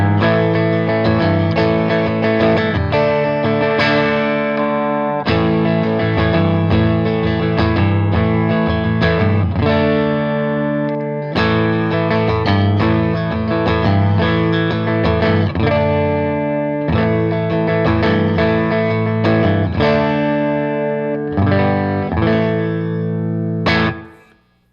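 Electric guitar played through an amp on a Fender Custom Shop Empire '59 Stratocaster with the neck pickup fully blended in, loud sustained strummed chords with a slightly driven tone, ringing out alone before a quick fade at the end.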